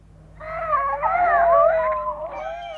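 Bagpuss, the marmalade cloth cartoon cat, waking up with a long, drawn-out yawning meow that rises and wavers, fairly loud and close, heard alone without speech.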